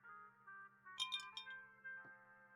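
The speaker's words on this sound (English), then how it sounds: "The bartender lays out a rocks glass filled with an amber liquid and one large lump of ice" A rocks glass holding amber liquid and one large lump of ice is set down on a bar by a bartender, giving a few bright glassy clinks near the middle over quiet, sustained background music.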